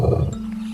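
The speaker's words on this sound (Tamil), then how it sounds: "லியோவின் கர்ஜனை கேட்டால் காடே அதிரும்." A lion, king of a dense forest, lets out a single short, deep roar, loud and close with no other sound around it.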